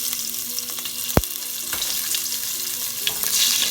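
Oil sizzles steadily in a pan as curry oxtails fry, a continuous crackling hiss with a single sharp knock partway through and small stirring noises, with no talking.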